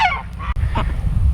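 Goose honking repeatedly on a farm, loud and close, with a harsh, nasal series of calls over low rumbling background noise.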